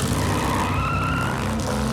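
Car tires screech and skid in a loud, continuous burnout, engine droning underneath, during illegal street racing in the United States.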